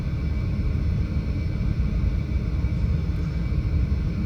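An Eclipse 550 light business jet taxis on the ground, its engines giving a steady, dense rumble and whine heard from inside the cabin, constant throughout with no voices.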